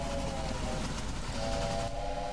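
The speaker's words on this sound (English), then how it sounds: "Hello, other train!" A train rolls past in the Railway Empire video game, a continuous rumbling rail noise with a sustained whistle tone breaking in and out, fairly close and steady with no talk.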